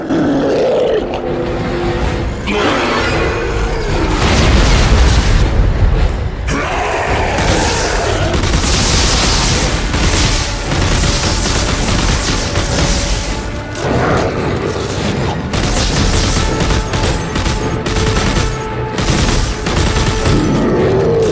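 Gunfire pouring into a regenerating monster in the sci-fi horror game Dead Space 3, loud and dense, with rapid shots mixed with roaring creature noise and crashing booms that run continuously, with no talk.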